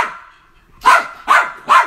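Dogs bark three times in quick succession, sharp and loud nearby, after a fading tail of an earlier bark.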